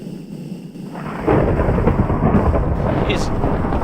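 Thunder from a lightning strike close by in Minecraft, a sudden loud rumbling crack that swells and rolls on for several seconds, with a faint high ping near the end.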